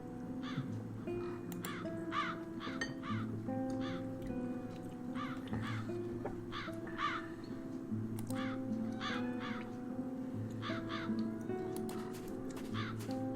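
Several crows caw again and again in the game The Dark Eye: Chains of Satinav, overlapping harsh calls through the whole stretch above a humming musical ambience.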